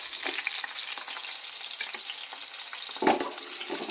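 Chopped tomato pieces fry in a bowl for a tomato chutney, with a soft continuous sizzle, scattered stirring scrapes and a brief louder clatter near the end.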